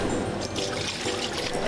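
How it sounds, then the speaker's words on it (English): Sugar and water for candy canes being poured into a pot, a short, loud, continuous rushing pour with bubbling, trickling texture. "Tom's added sugar and water to a pot"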